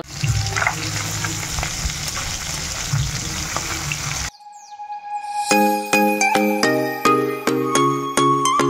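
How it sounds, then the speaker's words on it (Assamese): Fish frying in a pan gives a loud, dense sizzle for the first half, then gives way to bright ringing metallic chimes and tinkling. "আৰু মাছ ফ্ৰাই কৰি লওঁ"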